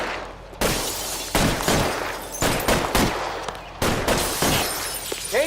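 Repeated bursts of gunfire in a shootout from the video game L.A. Noire, loud close volleys separated by brief pauses, with sharp cracks and some shattering debris.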